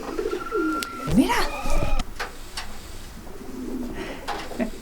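Pigeons in a loft where the birds are nesting on the floor, with soft coos and calls mixed with brief fluttering and light rustling, while a voice speaks briefly.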